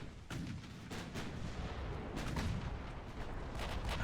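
Naval gunfire from warships in the Ultimate Admiral Dreadnoughts game, a steady rumbling barrage of heavy booms with repeated sharp blasts throughout, loud and continuous.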